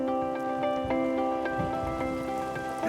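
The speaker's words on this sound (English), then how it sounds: "Another dose of invigorating Welsh rain." Steady rain pattering on muddy fields at a Roman legion fort site in Caerleon, Wales, a continuous close wash of drops with sustained tonal hum running underneath.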